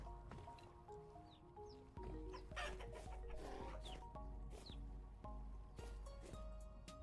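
Chickens cluck inside a coop in the survival game Vintage Story. The short, scattered clucks are fairly close, over a low ambient rumble with occasional clicks and other game noises.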